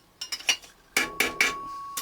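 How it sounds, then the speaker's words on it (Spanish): A center punch tapped with a hammer to mark drilling points on recycled sheet metal for a fume and odor extraction system, giving several sharp metallic clinks: a few light taps, then three louder ringing strikes, then one more. "Marcamos con el botador, le damos un golpecito."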